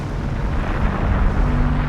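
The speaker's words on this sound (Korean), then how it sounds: "폭발은 온 섬을 잿더미로 덮어버릴 정도로 거대한 것이었습니다" A huge volcanic eruption explosion on an island, heard as a loud, dense, continuous rumbling roar with heavy low-end, sustained without a break and no voices.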